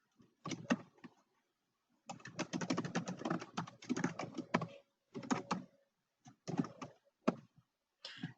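Clattering computer keyboard typing into a form field, close and crisp, in irregular bursts of rapid keystrokes separated by short pauses.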